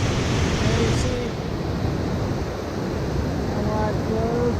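Broad River rushing over a stretch of waterfalls, a loud constant roar of flowing water with light wind buffeting the microphone.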